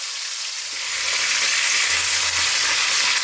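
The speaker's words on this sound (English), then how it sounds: "we're going to throw this around in the pan for about 4 minutes" Bone-in, skin-on chicken thighs fry in a pan for a West Indian coconut chicken dish, giving a steady, loud broadband sizzle that swells after the first half second and holds evenly, with faint low rumbles underneath.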